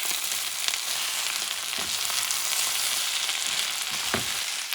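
Ground beef, chorizo and rice are stirred together in a frying pan, giving a steady bright sizzle with occasional soft scrapes of a utensil through the mixture, close up and continuous, with no voices.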